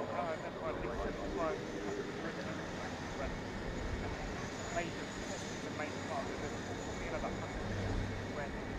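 An Airbus A400M military transport at the Farnborough Air Show climbs steeply and banks, its turboprop engines roaring loudly and continuously in the distance with a broad, steady rumble under faint crowd and ambient noise.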